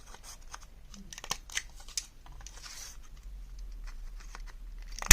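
Several crisp scissor snips rounding the corners of a one-inch paper strip, close and fairly soft, with light rustling of paper in between and a sharper snap at the very end.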